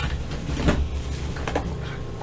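Household drawers being yanked open and shut, a couple of knocking thuds and scrapes over a steady low hum, close by and moderately loud with no talking.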